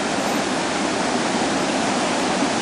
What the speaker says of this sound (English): There you can see water gushing out of the outlets